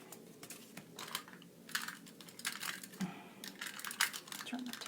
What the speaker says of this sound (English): turn the tape runner around